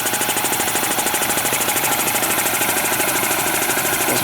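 An air compressor, picked up free from a junk haul and fitted with cast rubber wheels, runs steadily while building pressure, a loud continuous mechanical pounding close by, with no talking.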